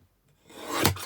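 A paper trimmer slicing through card stock gives one short rasping swipe that swells quickly and fades, close and alone.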